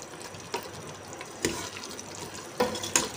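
Spoon stirring fried okra into a sizzling meat curry in a pan, a steady low frying hiss with three or four sharper scraping strokes of the spoon spaced across the moment, no voices.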